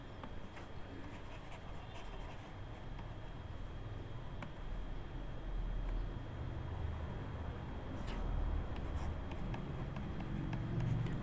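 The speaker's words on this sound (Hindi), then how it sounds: "थोड़ा साफ लिख देता हूँ इसको" Chalk or marker writing on a board during a Hindi grammar lesson, a faint continuous scratching with small taps, close and quiet, with no talk over it.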